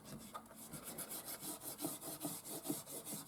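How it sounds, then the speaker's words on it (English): A rubber eraser scrubs back and forth across paper in a steady rhythmic rasp, close and soft, with no voices. "So I'm gonna just rub this off."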